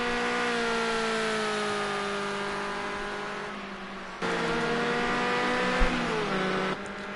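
A Ford Escort RS 1600 race car at Sugo in a racing game, its engine droning loud and steady, easing off briefly, then revving again and shifting near the end, with no voices.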